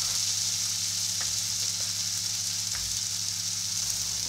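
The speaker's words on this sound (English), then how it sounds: "Now add the cut pumpkin stems that we had prepared earlier." Cut pumpkin stems frying in a pan with potatoes for a Bengali chickpea-fritter curry: a steady, dense hiss of sizzling oil throughout, close and even, with faint stirring clicks and no talk.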